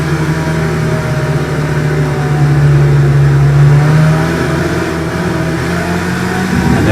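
Simulated GT300 race car engine in a racing video game, a steady loud mid-pitched drone with slowly shifting pitch as cars pull away from a hairpin restart, with a slight rise at the end.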